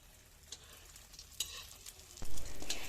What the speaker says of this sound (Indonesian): Kita akan dadar sampai matang.